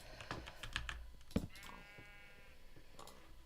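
Sheep bleat in Minecraft, a wavering call of about a second heard once amid quiet keyboard typing and clicks, with a few other soft game sounds.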